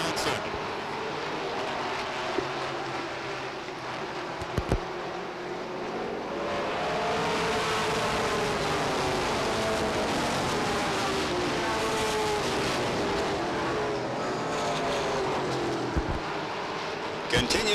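Stock cars race at Beech Ridge Motor Speedway during 1993 weekly racing, a steady roar of engines filling the track for the whole stretch under constant commentary.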